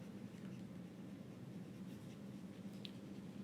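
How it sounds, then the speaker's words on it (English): Marker or chalk scratching across a board during a deep learning lecture, a steady faint scraping stroke running alone over a quiet room hum. "Let me write it here."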